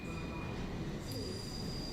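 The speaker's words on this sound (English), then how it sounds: "So these are new trains" A new London Underground train runs with a dense, steady rumble and thin, high-pitched wheel squeals, all at a faint level.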